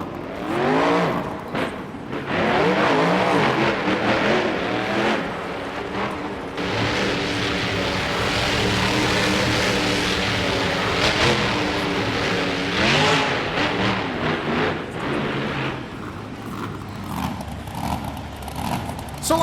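Monster trucks race at a Monster Jam show in San Diego, engines roaring and revving loudly and continuously for the whole run, with crowd and arena noise behind.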